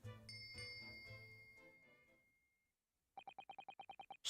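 A bell is rung by tugging a bell cord in a ship's cabin in The Great Ace Attorney Chronicles: a rapid run of about ten bright, evenly spaced dings, heard alone after a fading musical passage.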